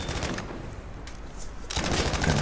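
Sustained machine gun spray in Battlefield 5, a stand-and-shoot burst with dense rapid gunfire continuing throughout, loud and steady with no talk.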